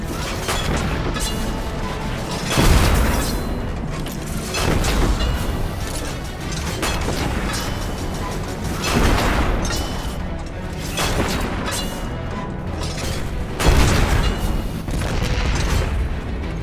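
Heavy booming blasts from a tank firing in the video game Destiny 2, repeated loud explosive thuds with crashing debris and a dense mechanical rumble running between the shots.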